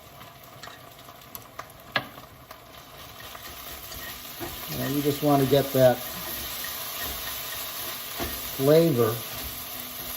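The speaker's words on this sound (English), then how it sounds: "Mixing in that garlic and scallion." Noodles are stirred and fried with garlic and scallion for a ramen egg foo young, with a steady low sizzle and scraping stirs in the pan, while a person talks over the cooking at moderate volume.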